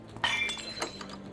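A drinking glass shattering in the video game Life Is Strange: Double Exposure, a sharp crash with ringing tinkles of shards and a second smaller clink shortly after, fairly close.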